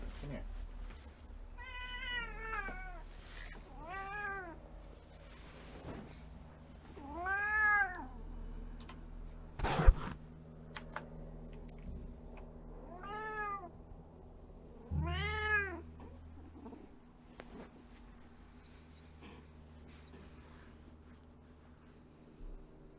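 A cat meows repeatedly at fairly close range: around six distinct rising-and-falling calls spaced a few seconds apart, over a low background hum with occasional faint thumps and light voice-like sounds.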